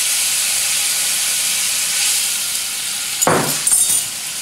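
Spiced black rice vinegar with orange zest, cloves and cinnamon hits a hot pan for sticky chicken, a steady loud sizzle with a sharper burst of spitting and crackling near the end.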